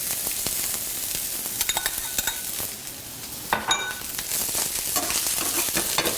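Carrots fry in a pan with a constant crackling sizzle while a utensil scrapes and clatters through them in irregular strokes, close up and with no talking.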